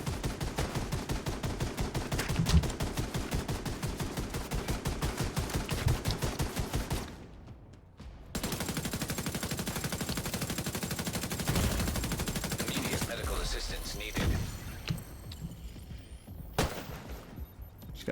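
Sustained automatic gunfire from a Division 2 firefight, dense rapid bursts for about seven seconds, a brief lull, then more scattered shots and impacts continuing loud and close.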